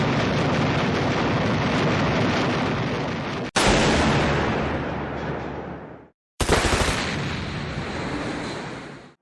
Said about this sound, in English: The 37th Coast Artillery Brigade began firing their machine guns and anti-aircraft shells into the air